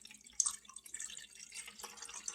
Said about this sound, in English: my husband is gonna help me with the water. So he's gonna pour it in